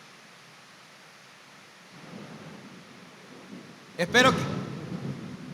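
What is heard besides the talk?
thunder and rain of a thunderstorm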